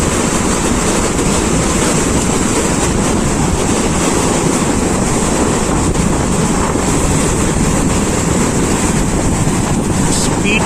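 Sea waves surging in at high tide on Mandarmani beach, a loud continuous roar of surf with heavy wind buffeting the microphone throughout.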